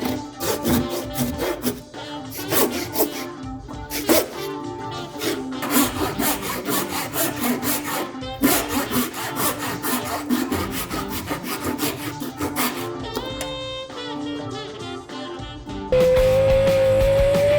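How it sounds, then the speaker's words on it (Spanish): Hand saw cutting through a wooden workpiece during a carpentry joint-making job, steady rhythmic rasping strokes close up and loud, continuing for many seconds before a short tonal sound at the end. "ya hemos dado el corte con el serrucho"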